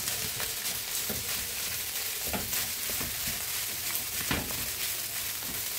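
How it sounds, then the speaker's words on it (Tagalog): Steady, loud sizzle of leftover rice frying in a pan for sinangag, a continuous crackling hiss with occasional stirring scrapes and no talking. "Magsangag tayo ng kanin kasi marami tayong bahaw ngayon eh."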